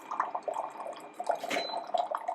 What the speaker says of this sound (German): dann kommt das heiße Wasser auch schon raus